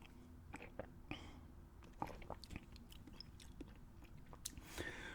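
Close, quiet gum chewing, with repeated wet smacks and clicks in an irregular rhythm, under faint whispered breath.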